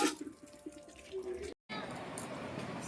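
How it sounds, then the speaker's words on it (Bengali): Water runs from a municipal timed tap at a family home, a steady broadband rush that starts after a brief silence and continues alone. "টাইম কলে যে জল এসে গেছে"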